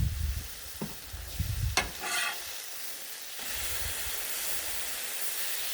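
Cheesesteak meat sizzles on a Blackstone griddle with a steady hiss, broken early on by a few scraping and clanking spatula strokes, then a louder continuous frying sizzle.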